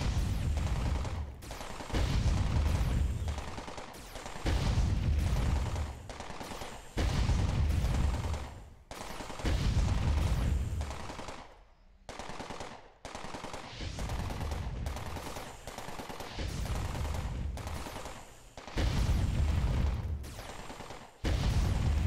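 Gunfire rattles in Entropia Universe during a jackpot event, rapid bursts of shots repeating in a steady rhythm of several-second volleys separated by short pauses, loud and close throughout.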